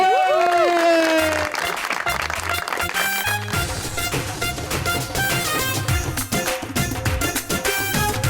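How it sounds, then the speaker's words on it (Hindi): A studio audience on a Pakistani TV talk show applauds to welcome a singer, steady loud clapping layered over swooping, sustained music that runs throughout. "आपकी भरपूर तालियों में प्लीज वेलकम"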